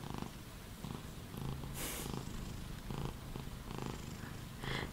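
A cat purrs while lying on a person's lap, a soft, low, rhythmic rumble in repeated breaths, close and quiet, with faint handling noises in between.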